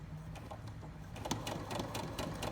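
Sewing machine stitching a fabric pin cushion, running as a quiet, steady mechanical whir with rapid needle ticking that grows slightly busier in the second half.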